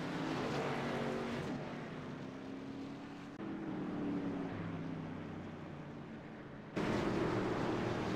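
NASCAR race trucks roar around the oval at Iowa, a steady, dense engine drone that swells and shifts slightly as the pack passes, with no voices over it.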